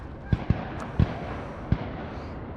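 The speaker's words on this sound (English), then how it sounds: "someone's shooting guns" Distant gunshots sound as four muffled thumps spaced irregularly, set against an outdoor background of steady wind and ambient noise.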